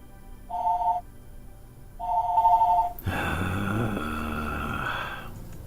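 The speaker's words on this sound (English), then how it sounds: "Whenever the phone rings while I'm making a video, I always have to like freeze in place and like wait for the phone to stop ringing" A telephone rings in two short electronic bursts, and a louder, fuller tone then holds for over two seconds before fading, heard clearly indoors with no talking.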